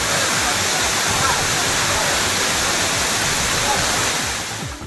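Suruli waterfall pours with a dense, loud, unbroken roar of rushing water that fills the whole scene without pause, easing slightly at the end.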